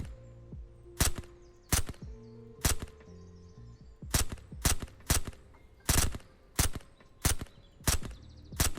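Sharp gunshots ring out in the zombie survival game Surroundead, about a dozen loud single cracks at irregular intervals over a low in-game hum.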